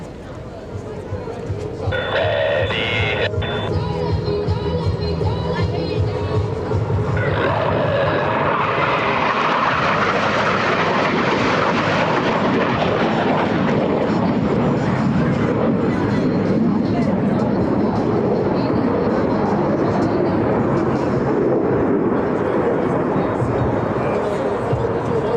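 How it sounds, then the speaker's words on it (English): US Navy Blue Angels F-18 jets roar through opposing inverted rolls at an air show, a loud, sustained jet rumble that swells and holds as they pass, with an announcer talking over the start. "They'll roll their aircraft 360 degrees, crossing center point."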